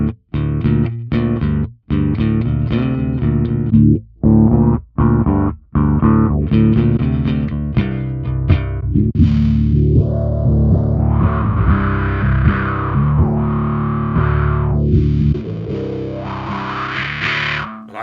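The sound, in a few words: Fender Mustang bass through a filter wah/fuzz effect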